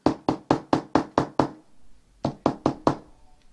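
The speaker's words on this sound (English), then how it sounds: "She and the children walked down the flight of steps and knocked on door" Knuckles rap on a basement-level apartment door, B102, in two sharp bursts: seven quick evenly spaced knocks, a brief pause, then four more, close and crisp with no talking.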